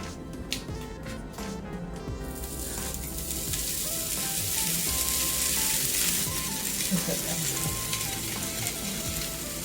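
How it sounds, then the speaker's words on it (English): Pizza grilled cheese sandwich sizzling and frying on a grill, a steady crackling hiss that swells slightly, with a few light clinks early on. "Now let's put it on the grill."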